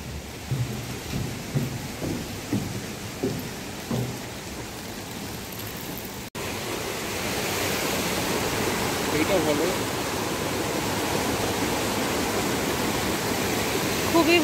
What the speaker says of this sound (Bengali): জলের আওয়াজ চারিদিকে